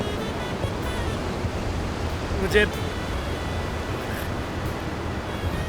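Steady broadband roar of sea waves and surf at the shore, continuous and fairly loud, with a voice speaking briefly over it.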